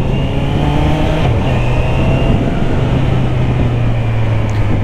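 A 2024 Honda CBR 650 R E-Clutch motorcycle on its stock exhaust, running steady and loud nearby with a smooth, continuous engine drone that dips slightly in pitch partway through, no voices.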